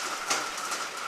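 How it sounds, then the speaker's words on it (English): Hail driven by strong wind and rain pelts an outdoor baseball field with a fence, a continuous rushing hiss with scattered brighter ticks of impacts, moderately loud and with no voices. "there is hail with a strong wind and rain going right now"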